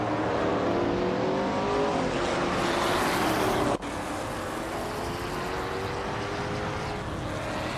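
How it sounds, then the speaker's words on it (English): A 1965 Lotus 40 race car in a racing video game drives at speed, its engine droning in a steady high whine with shifting pitch, loud and close, briefly cutting out before resuming. "Imbus Platinum is driving a 1965 Lotus 40"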